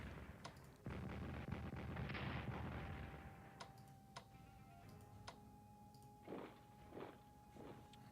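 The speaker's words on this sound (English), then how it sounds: "let's go ahead and bombard these guys with our 2 shells" Artillery shells bombard enemy units in the strategy game Strategic Command WWII: War in the Pacific, heard as a quiet run of sharp booms and clicky impacts, several in sequence, with low rumble early on.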